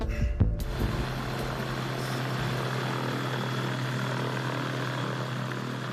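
Gyrocopter engine and propeller during a flight exam, a steady broadband drone that holds constant and loud throughout after a brief thump at the start, with no talk.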